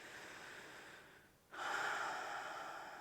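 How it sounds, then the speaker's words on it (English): A single slow, deep breath during a yoga session: a soft, airy intake that fades, a short pause, then a fuller, louder exhale lingering close and alone. "Take some nice deep breaths here"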